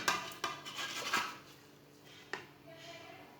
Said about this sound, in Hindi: चिकन डाल लेंगे।